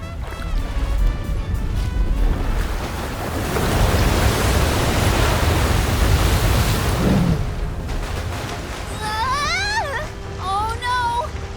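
In Visions of Mana, heavy waves crash against a ship as a loud, surging roar that swells and then subsides, followed by a few short game sound effects.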